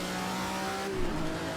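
A front-mounted 300-horsepower Ferrari V12 race car engine in Assetto Corsa drones steadily at high revs, its pitch dipping briefly then climbing again across a short, continuous stretch.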